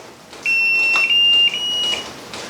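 A drone's 3S lithium battery pack gives a long, steady electronic beep after a prolonged button press; one continuous high tone with a brief dip, then stops, clear and close, with no talk.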